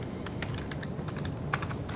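Quick, uneven keystrokes on a computer keyboard while columns are added in a database table designer, clicking in short bursts of about a dozen taps over a low steady room hum, close and alone.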